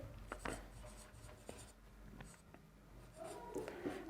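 Chalk or marker writing on a board during a trigonometry lesson: scattered short taps and strokes over a quiet room, with no talking.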